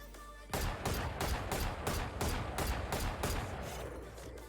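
Rapid video game gunfire aimed at a sound sensor, a loud burst of evenly spaced shots in a steady rhythm that starts abruptly and continues to the end.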